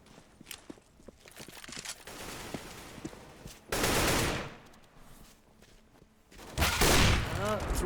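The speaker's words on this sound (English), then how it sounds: "just loud and proud blind fire coming in from the Ukrainians at this moment" Blind gunfire rattles through a Counter-Strike professional match on the Overpass map, with footsteps, bursts of automatic fire and two loud heavy volleys, mixed with game sounds.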